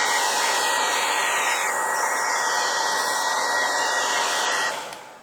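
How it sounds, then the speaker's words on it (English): Hair dryer blowing hot air onto a Google Pixel 2 XL phone to soften its adhesive, a loud steady whooshing roar with a constant whine that holds for about five seconds before tapering off. "I'm going to hair dry it again to reactivate the adhesive"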